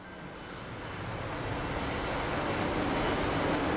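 AJS-37 Viggen jet aircraft in DCS World flight simulator, a steady broadband engine roar with high whine tones, building gradually in loudness and holding steady near 475 km/h, no talk.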